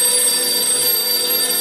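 A telephone bell rings steadily with bright, sustained tones, loud and close, with no voices over it.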